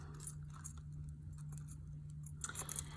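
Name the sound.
keys jangling as they are taken off a key holder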